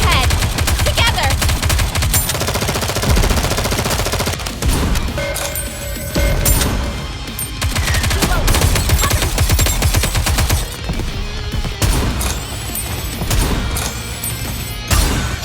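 Rapid bursts of automatic gunfire and machine-gun fusillades from the mobile shooter Nikke: Goddess of Victory rattle loud and dense throughout, with a few gaps, sharp impacts and occasional character voice lines mixed in.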